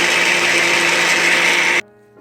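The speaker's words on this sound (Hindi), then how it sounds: "इसको बस ग्राइंड कर लेंगे" An electric grinder whirs at full speed, grinding ingredients for a Saudi kabsa sauce: a loud, steady high-pitched motor buzz running without break, then cutting off abruptly near the end as the motor spins down.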